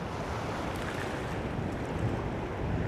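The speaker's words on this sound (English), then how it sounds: "The waves are starting to break because the channel runs this way." Waves break and wash up on Cambois Beach, a steady broad roar of surf mixed with wind buffeting the microphone, continuous and fairly loud with no voices.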